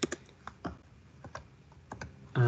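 Keys on a computer keyboard are tapped in short, uneven bursts, close and crisp, with pauses between keystrokes and a louder clatter at the very end.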